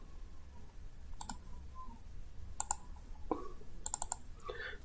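A computer mouse clicks several times in short bunches at an uneven pace, close and sharp over a low steady background hum, with no talking.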